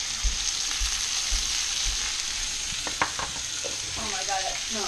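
A T-bone steak searing in a pan of hot oil and butter, with a loud, steady sizzle, close up, with a few clatters and some scraping from moving the meat around.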